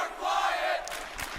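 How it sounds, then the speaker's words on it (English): Esports arena crowd cheering at Championship Sunday in Columbus, Ohio, a broad sustained roar of fans with rising shouts, loud and continuous for the whole moment, no talk over it. "The crowd getting behind EUnited once again."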